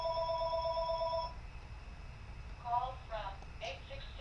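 A telephone rings with a repeating electronic trill for about a second, then stops, followed by a few short higher-pitched beeping tones over a steady low background hum.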